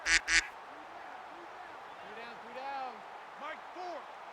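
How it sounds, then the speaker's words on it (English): A duck quacks in repeated short bursts behind loud game commentary, with several quacks heard through the clip. "he can hear that duck behind him just going"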